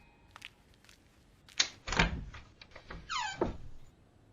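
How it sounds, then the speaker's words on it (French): A door opened indoors, with a sharp latch click followed by a thudding swing and a creaking squeal, close and clear against a quiet room. "Goonie, va ouvrir la porte s'il te plaît."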